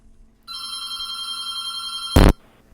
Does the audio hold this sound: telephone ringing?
yes